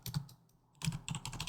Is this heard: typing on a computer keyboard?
yes